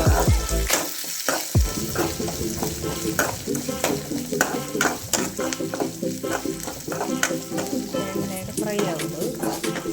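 Whole spices fry in oil for a Tulu-style curry, with a loud, crackling sizzle and constant metal stirring and scraping across the pan, dense and close throughout.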